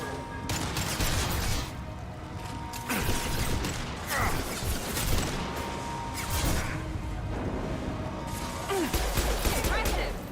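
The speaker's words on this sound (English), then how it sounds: "Firing a high-impact shot." A high-impact gunshot in Mass Effect 2 cracks amid dense combat noise, with mechanical clanks and rattling bursts of weapon fire layered throughout, loud and continuous.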